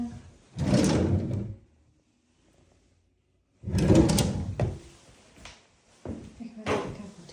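A drawer with discoloration and a chipped side is pulled open and pushed shut in a rental flat, two loud bursts of sliding and knocking separated by near silence, followed by smaller clunks.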